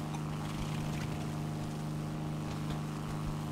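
Twin engines of an XF5F Skyrocket fighter in War Thunder drone continuously at steady power, a dense, even roar with a low rumbling hum throughout and no voices.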